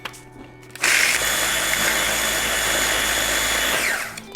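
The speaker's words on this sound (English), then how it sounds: "So I am taking actual graham crackers and putting them into a food processor." A food processor starts up abruptly and grinds graham crackers into crumbs with a loud, steady whirring motor for about three seconds, then winds down.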